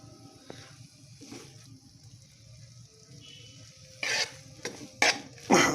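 Masala Maggi noodles stirred in a pan with green and red chili, soft scraping and faint sizzle at first, then several louder bursts of stirring and scraping near the end, no talking.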